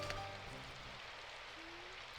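A steady hiss of rain falls in Rhythm Café: Symphonic Rain, soft and even throughout, with faint tonal notes briefly above it and no talking.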